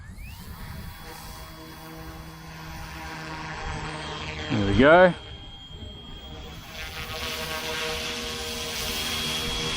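An RTRhobby F07 RC helicopter spools up and flies with a steady rotor drone and whine throughout, a brief louder swell midway, while someone talks over it.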